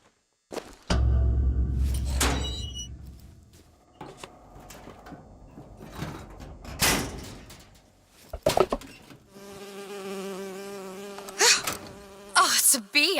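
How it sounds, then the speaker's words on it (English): A bee buzzing around in the video game Bioshock Infinite: intermittent loud buzzing bursts mixed with thumps and tonal game sounds, no talking. "Oh, it's a bee."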